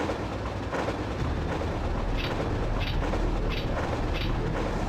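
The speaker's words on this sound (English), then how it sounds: "Oh, great. The train doesn't stop." A train running aboard a moving carriage in Resident Evil 3, a dense steady low rumble with rhythmic periodic clanks, loud and continuous without talk.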